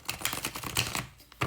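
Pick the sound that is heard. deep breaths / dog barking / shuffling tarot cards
shuffling tarot cards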